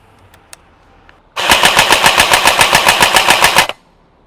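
An LCT AK electric blowback airsoft rifle fires on full auto, a loud, close burst of about two seconds with sharp, evenly spaced cracks at roughly seven rounds per second. The burst stops abruptly, with quiet clicks before it.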